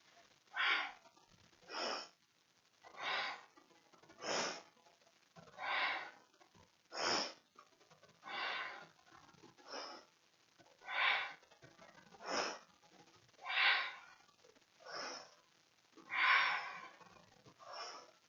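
Slow, deep yoga breathing in a Kundalini relaxation practice, about fourteen even breath sounds spaced roughly a second apart, close and soft, each breath a rushing airy swell with quiet gaps between and no speech.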